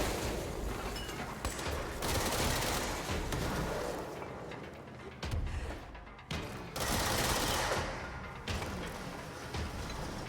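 Gunfire in the video game Control, dense rapid bursts of shots and heavy impacts in loud waves with short gaps between volleys.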